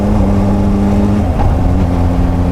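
A Honda CBR600 motorcycle engine drones steadily at speed, its pitch dropping and then settling again as it shifts up to fourth gear without the clutch, loud and continuous.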